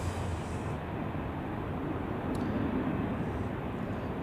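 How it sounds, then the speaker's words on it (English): A United Airlines airliner takes off from runway 34 at Zurich Airport, making a steady, broad jet rumble heard from a distance, constant for several seconds. "United Airlines is taking off on runway 34 as we speak."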